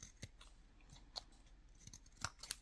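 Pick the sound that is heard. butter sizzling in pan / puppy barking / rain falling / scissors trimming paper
scissors trimming paper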